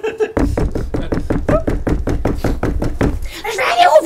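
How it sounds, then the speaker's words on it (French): A rapid series of about a dozen hard knocks on a door, loud and close, with voices talking over the knocking. "ça cogne à la porte"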